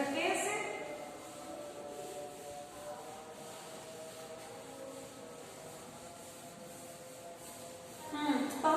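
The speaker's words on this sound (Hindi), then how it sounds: "चलिए रब कर देते हैं इसे।" A teacher wipes writing off a classroom board in continuous rubbing strokes, a soft, steady scrubbing that swells slightly at the start and end.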